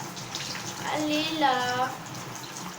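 Water runs steadily from a tap while someone waits for it to turn hot, a continuous close hiss and gush, with a person speaking briefly over it.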